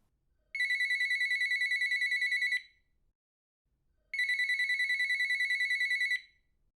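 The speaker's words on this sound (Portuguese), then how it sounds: "o telefone tocou sobre a mesinha bem ao meu lado" A telephone rings on a small side table inside an abandoned house, two long electronic trilling bursts of about two seconds each separated by a short silence, loud and close with no voices.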